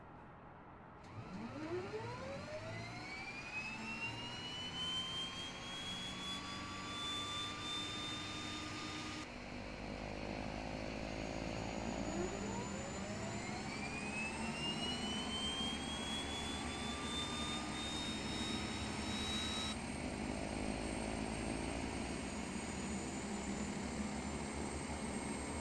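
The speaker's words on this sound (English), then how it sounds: "we'll start engine number 1, then engine number 2" Two turboprop engines of an Embraer 120 spool up one after another in a flight simulator, each start a loud rising whine that climbs and settles into a steady roar.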